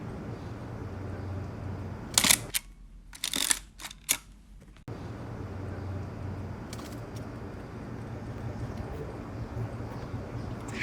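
Shutter clicks of a film camera loaded with expired 1962 black and white film during a long exposure, with a first click, a held gap, then several closing clicks over steady outdoor background noise.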